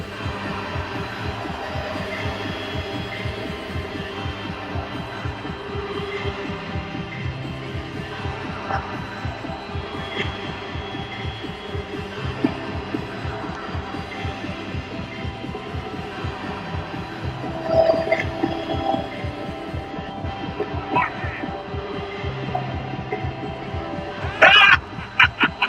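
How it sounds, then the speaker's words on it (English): A low, steady throbbing heartbeat pulse under a faint hum on a loading screen in We Happy Few, repeating evenly throughout with a few sharp clicks near the end. "Now, heartbeat's going up"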